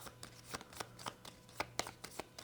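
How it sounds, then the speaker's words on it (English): Decks of cards are shuffled by hand in a quiet room, a soft, rapid riffling patter of light ticks running steadily throughout. "Then you're going to shuffle each of those decks"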